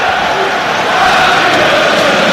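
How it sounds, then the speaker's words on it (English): Football crowd at an Iceland vs Wales international roaring steadily in acclaim for Wales player Harry Wilson, a dense, continuous wash of cheering that swells slightly partway through. "Harry Wilson gets the acclaim of the crowd"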